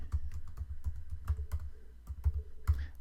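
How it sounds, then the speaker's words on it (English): Rapid, uneven clatter of keys on a computer keyboard, close and fairly loud, with short bursts and brief pauses as someone types lines of text, no voices. "trying to watch my screen and type"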